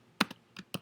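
A handful of close, crisp computer keyboard keystrokes, about five clicks in quick uneven succession while a command is entered for a StrataLink 24 radio firmware upgrade; no talking.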